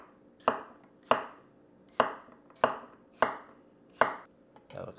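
Knife slices cucumber on a bias against a cutting board for a watermelon salad, seven crisp, evenly spaced chops close by, each a sharp tap with a short ringing tail, no talking.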